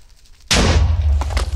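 A loud, sudden explosion in Minecraft bursts in after a quiet moment, with a heavy low rumble and crackling debris sustained to the end, plus a couple of brief sharp pops near the close.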